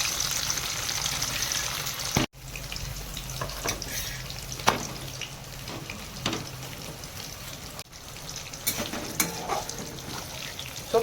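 Paneer sizzles and crackles steadily in hot oil in a pan, a dense continuous frying hiss with occasional sharper pops and a brief stir or pan knock, no voices.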